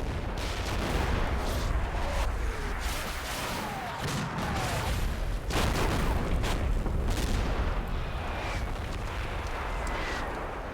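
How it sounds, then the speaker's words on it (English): Indiscriminate Russian artillery bombardment in the wargame Combat Mission: Black Sea, a dense, continuous barrage of booming impacts and crackling fire rolling on without pause, loud and close with no speech. "Something of a indiscriminate Russian bombardment."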